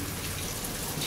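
Light drizzle falling outdoors, a soft, even hiss of fine raindrops throughout, fairly faint and with no voices, cutting off abruptly.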